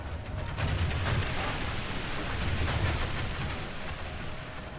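Marksmen firing during a battle in the video game Third Age Reforged, a dense continuous rumble of distant volleys with overlapping booms and crackles and no pauses.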